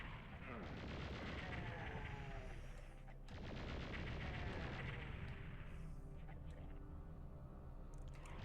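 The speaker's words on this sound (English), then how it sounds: "Now I could hear a chain gunner there, so where is he?" A chaingunner enemy in Doom II on PlayStation firing bursts of rapid gunfire that rattle continuously, loud and dense, with brief gaps between sustained volleys.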